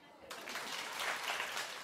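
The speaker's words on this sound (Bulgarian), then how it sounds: "Кой пляска?" Clapping that starts abruptly and carries on as a dense, steady patter of many hands, fairly faint, like applause from an audience.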